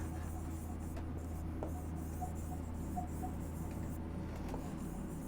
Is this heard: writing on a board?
yes